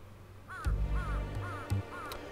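Crows caw in the Suikoden V video game, three repeated harsh calls at a steady rhythm over low background game music, with a couple of sharp clicks or thuds mixed in.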